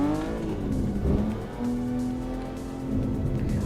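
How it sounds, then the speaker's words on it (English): A Volvo S60R driven in the No Hesi racing game, its engine humming steadily with revs rising and falling, a sustained mechanical drone throughout with no talking. "It's a Volvo S60R, and we are driving in No Hesi with a BMW M2."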